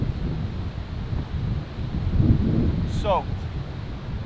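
Wind gusts buffet the microphone on an open bluff-country hillside in damp, overgrown spring woods, a continuous low rumble that rises midway. A short spoken word cuts in near the end.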